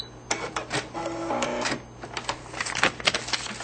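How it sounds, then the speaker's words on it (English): A sewing machine runs in short mechanical bursts as it stitches along the line of a paper-pieced shamrock quilt block. The rapid clatter is close, with a brief steady whir in the middle. "I'm going to start a couple stitches before, stitching on the line, and go a couple stitches past"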